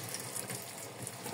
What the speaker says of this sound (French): Je le rince très légèrement